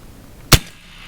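A single sharp shot from an AEA Terminator .30 caliber PCP air rifle cracks close and loud at a range, then drops quickly back to quiet.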